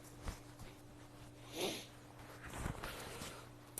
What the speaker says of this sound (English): I'm actually going to zip this up